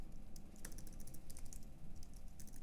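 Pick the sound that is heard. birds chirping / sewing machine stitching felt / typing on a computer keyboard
typing on a computer keyboard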